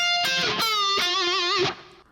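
Electric guitar playing a solo-style string bend on the G string at the 20th fret, the sustained note rising and sliding with vibrato before a release, loud and close with no talk.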